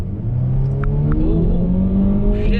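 A Jeep Renegade fitted with a Pedal Commander throttle controller revs hard from inside the cabin, a loud steady engine drone climbing in pitch with no talking.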